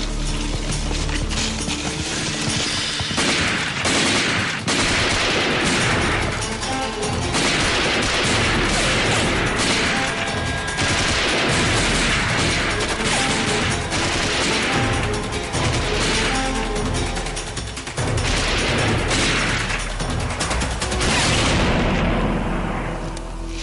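Heavy battle gunfire in a war movie: rapid bursts of rifle shots and booming blasts, loud and dense, continuing with brief pauses over a rumbling score.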